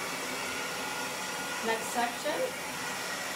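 A handheld blow dryer works through a section of long layered hair during styling, a steady close airy whoosh running throughout while a voice speaks briefly near the middle.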